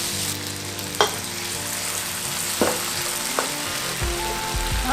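Tomato and egg frying in a pan after a splash of water is added, a continuous close sizzle with a few sharp clinks and stirring knocks from the utensil.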